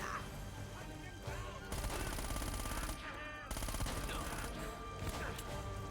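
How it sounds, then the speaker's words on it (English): Sustained bursts of enemy gunfire in the Uncharted video game, dense rapid automatic shots in loud continuous volleys with brief lulls between them, layered over game music and effects. "Please stop shooting at me"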